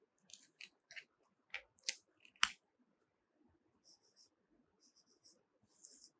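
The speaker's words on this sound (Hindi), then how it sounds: "जैसे मैं कुछ एग्जांपल्स लिख रहा हूं" Marker or chalk strokes on a classroom board as chemical formula examples are written, a series of short scratchy bursts in quick clusters, then lighter intermittent taps, close and fairly faint.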